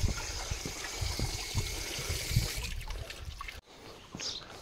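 Water runs from an opened village tap in Nainital district, Uttarakhand, a faint, steady trickle and splash that fades and then briefly returns.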